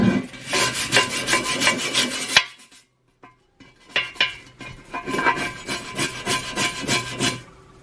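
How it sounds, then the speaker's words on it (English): A stiff brush scrubs the grooves of a dirty Dutch oven pan in rapid rhythmic back-and-forth strokes, loud and close, pausing briefly before the scraping resumes. "I picked up this brush. Hopefully it will get in these little grooves a lot better."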